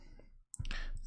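A calculator's keys are pressed in a couple of quick, close, crisp clicks, with a brief hush between them, while working out cylinder, cone and sphere volumes.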